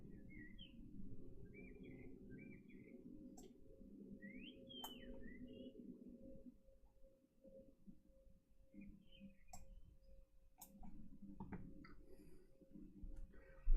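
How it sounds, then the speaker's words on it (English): Pigeons perch and walk on an apartment window ledge outside, their soft cooing and faint chirps mixed with occasional light clicks of feet, heard faintly over a low steady indoor hum. "There's pigeons on my that walk on my window sometimes."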